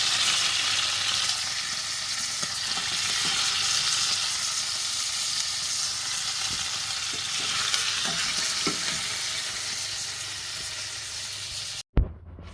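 Beef for a stew browns in a hot pan with a continuous, loud sizzle and crackle, occasional stirring scrapes, and a sudden clunk near the end.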